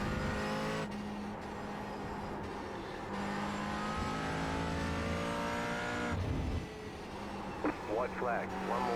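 A GT4 race car in iRacing at Circuit de Barcelona-Catalunya accelerates hard, its engine note droning and climbing through the gears, close and loud throughout with a brief dip midway, while someone talks over it.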